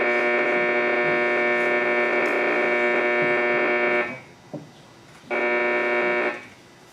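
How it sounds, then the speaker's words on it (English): Power line RF interference on an HF radio receiver: a loud, harmonically rich buzzing hum that cuts out briefly near the end, leaving faint hiss, then returns for a moment before fading. "You can hear a little variation in the noise too, which is frequently an indicator that it's power line noise."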